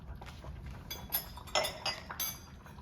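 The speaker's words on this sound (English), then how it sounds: "Now you take one of these lids, place it on" A metal canning lid is set onto a glass jar of fig jam, making several sharp, close metallic clinks and taps scattered over a few seconds against quiet kitchen background.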